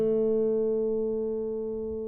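Single plucked acoustic guitar note on the G string at the 2nd fret, ringing steadily and slowly fading, clear and close with no other sound.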